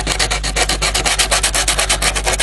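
Abrasive paper is rubbed briskly back and forth over a filed-down area of a model locomotive body, a loud, close, steady rhythmic scraping of about five strokes per second.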